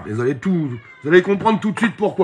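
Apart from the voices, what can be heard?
cat meowing, grumbling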